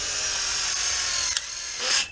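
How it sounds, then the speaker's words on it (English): A power drill drives metal tapping screws into steel greenhouse bows, with a loud continuous whirring whine, a brief click, and a rising burst of motor noise near the end. "David is taking some metal screws and is putting tapping screws into the post, into the bows."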